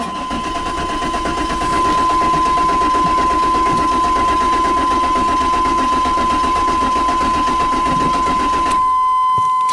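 A 2004 Chevrolet Impala with a no-start problem, its engine cranking on a cold start; a loud, steady whirring drone runs continuously with a constant tone on top, then cuts off abruptly near the end.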